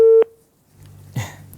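A telephone line gives a short, loud steady beep as a call disconnects, then falls quiet. A faint low hum and a soft thump follow.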